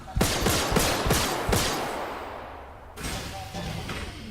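Gunfire in the video game Star Citizen, a burst of five or six sharp shots in quick succession, loud and close, then a pause before a rougher rumbling burst near the end.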